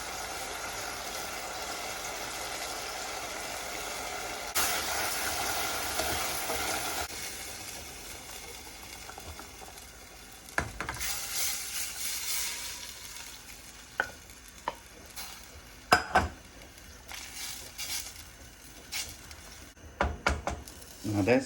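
Cooked ham frying in fat in a pan with basil, giving a steady sizzle that fades, then scattered clinks and stirring knocks from the pan.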